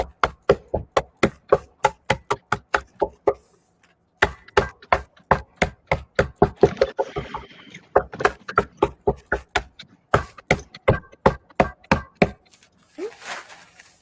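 Rapid, evenly spaced taps and knocks from the back of a can opener crumbling food, coming in quick bursts with short pauses, close and crisp, with a brief rustle near the end.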